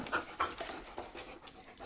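A puppy pants close by in quick, breathy, rhythmic bursts, with a couple of faint high squeaks mixed in, at moderate loudness with no talking.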